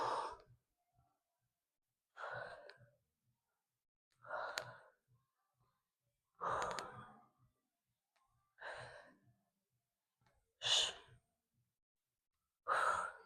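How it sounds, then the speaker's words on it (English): Steady breaths during a dumbbell workout, seven distinct breath bursts spaced about two seconds apart, close and clear against near silence. "Exhale, inhale."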